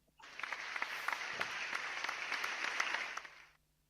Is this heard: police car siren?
no